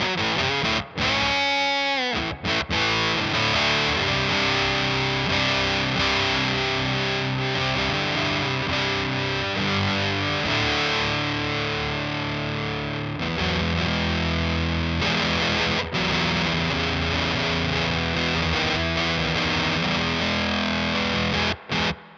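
Electric guitar played through a rebuilt Prescription Electronics Experience fuzz pedal, a thick distorted tone with sustained chords and notes ringing continuously and loud, with brief gaps where the strings are choked.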